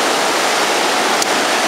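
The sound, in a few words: ocean waves at Monte Gordon beach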